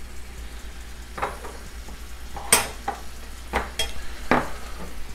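Bacon and ground meat for a bacon cheeseburger casserole seasoned with Italian seasoning fry in a pan, with a steady low sizzle and several sharp scraping stirs of a utensil against the pan, fairly close.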